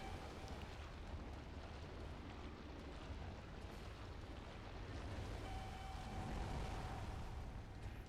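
A boss monster in Bloodborne spews fire in a dense, continuous roaring rush that swells slightly toward the end, with no distinct breaks.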